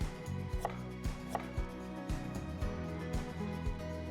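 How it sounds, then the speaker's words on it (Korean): A kitchen knife slices radish thinly on a cutting board for a Korean pollock gochujang stew, giving a quick, regular series of sharp close chops, with no talking. "예, 얇게 납작 썰기 할게요."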